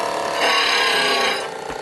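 A power grinder works a part flat during a 1942 Harley WLA 45ci four-speed transmission rebuild, a harsh, loud rasping whir that swells, holds for about a second, then eases off.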